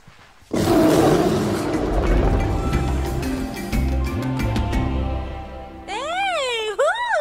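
A loud roar erupts in the video game Disney Dreamlight Valley, a deep rumbling growl that swells and slowly fades over several seconds, followed by warbling, pitch-sweeping tones at the end.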